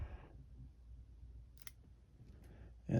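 Pruning shears snip a Christmas cactus stem during pruning, giving a faint crisp click against low background hiss, followed by a louder rustle of handling at the end.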